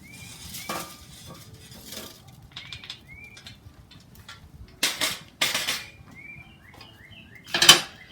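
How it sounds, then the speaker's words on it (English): Hot charcoal briquettes tumbling out of a chimney starter onto the ground for a camping Dutch oven, several bursts of clattering and scraping, with birds chirping faintly outdoors between them. "our coals are good and hot, and so I'm going to dump them right here"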